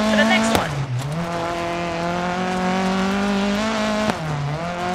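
A rally car in Dirt 4 roars through a turn with its engine note loud and continuous. The revs dip sharply twice at quick gear changes, then climb again as the car works through the gears.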